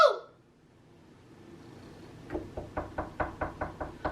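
Knuckles rap on a door in a quick series of about nine firm knocks after a short quiet stretch, close and clear with an even rhythm.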